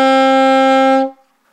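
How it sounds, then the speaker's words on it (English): A single sustained saxophone A note, fingered with the first two keys, rings steady and loud for about a second and then stops cleanly, with no talking. "is the A note, and it should sound something like this."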